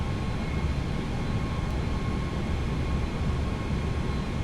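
An Airbus A320 in a flight simulator lines up on runway 21 for departure, with a steady, loud engine roar and broadband rumble that holds constant throughout. There is no talking.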